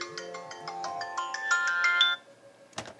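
An alarm ringtone plays a quick, repeated electronic melody of bright beeping notes for about two seconds, then cuts off abruptly, followed by a short clatter; no talking.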